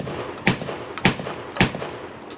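A Charles Daly 601 DPS semi-automatic shotgun fires Rio 1280 fps shells in three sharp, evenly spaced booming shots, each with a brief echoing tail, outdoors at close range.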